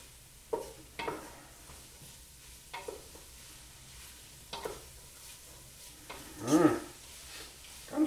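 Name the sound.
stirring seasoning into onions and celery in a pot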